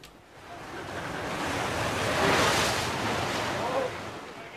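Heavy Atlantic waves surging into Penny Pool, a rocky Cornish cove, a loud, close, sustained roar of churning surf with wind buffeting the microphone, swelling toward the middle and easing slightly at the end.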